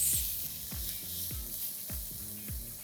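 Chopped red capsicum cooking in a hot pan, giving a soft, steady hiss and sizzle with a few faint repeating low knocks underneath, fairly quiet and with no talk.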